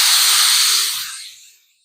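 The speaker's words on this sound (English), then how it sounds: "I'm spraying the white to see that I got it all out." An airbrush sprays white primer over a Warhammer miniature for zenithal priming: a steady, close, airy hiss that holds for over a second, then tapers off and fades to silence, with no voices.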